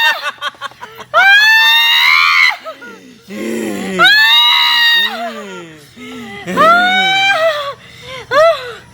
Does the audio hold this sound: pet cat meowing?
no